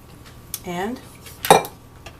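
A spoon clinks and scrapes against a metal pot while cheese is stirred into a homemade Mexican dish, giving a few close, distinct clatters, one sharper knock standing out, with no talking.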